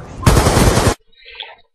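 AN94 assault rifle fire in a video game: a loud sustained automatic burst lasting under a second, then a brief fainter electronic tone after it stops.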